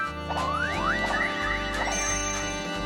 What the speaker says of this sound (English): Oh, it's going to be like a chime, so it's not going to be exactly as she was singing